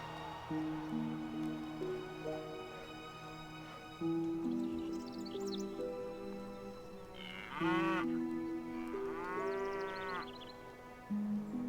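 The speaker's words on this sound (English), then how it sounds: "Oh look, new baby cows." Cattle in the video game Stronghold (2001) give long, drawn-out moos one after another, with calf-like bleating calls mixed in over a quiet background of game music tones.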